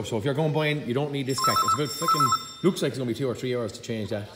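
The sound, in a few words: telephone ringing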